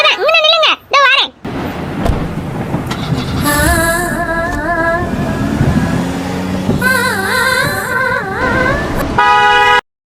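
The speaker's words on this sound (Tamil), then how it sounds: "ஒரு வழியா கார் வந்துட்டு" A car arrives and sounds its horn in a few short toots, amid loud street traffic noise, with brief voices and other warbling tones around it.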